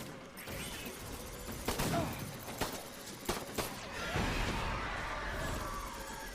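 In the video game Death Stranding, gunfire crackles in several sharp bursts over a rumbling background, with bright cracks spread across a few seconds and voices talking faintly underneath.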